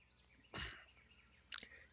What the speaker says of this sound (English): Hear the birds chirping?